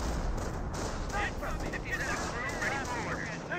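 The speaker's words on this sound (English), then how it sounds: "Grenadier still here firing away" Rifle and machine-gun fire from a Company of Heroes 1 battle, with a Wehrmacht grenadier shooting at US troops, crackling steadily at mid distance for several seconds while commentary continues over it.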